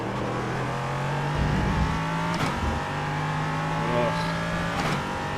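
LMP3 prototype race car in iRacing, its engine droning steadily and rising and falling with throttle and gear changes over about five seconds, close and continuous, with a brief groan from the driver.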